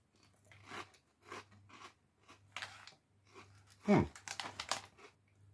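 Light barbecue-flavoured crunchy snacks bitten and chewed, a series of sharp close crunches in short bursts, the loudest near the end, with someone talking between bites.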